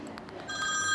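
A telephone rings in a home, a faint electronic trilling ring that begins partway through, quiet and steady against a soft room background.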